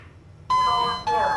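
A skyscraper elevator's arrival chime sounds as the car reaches floor 0: two clear, ringing electronic tones, the second following about half a second after the first, loud and close.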